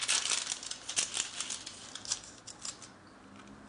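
Plastic protection foil handled and crinkled by hand, a steady crackling rustle with small bright crinkles, close and fading slightly toward the end, no talking.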